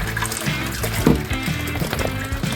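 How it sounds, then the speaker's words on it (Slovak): Water gushes and trickles out of the pressure vessel of a small 12V home water pump system as it is emptied, a continuous splashing pour heard up close with a few louder sloshes. "To na chvíľku zastavím a vylejem si tú vodu"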